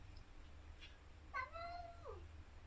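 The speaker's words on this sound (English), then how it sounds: "the angry annoying kitty again who just never shuts up" A cat meows in a rising-then-falling wail over a steady low hum, one drawn-out cry with a shorter lead-in, moderately close and clear.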